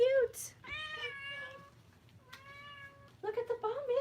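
A pet cat named Mittens meows several times, close and clear, with drawn-out tonal calls and a short break between them.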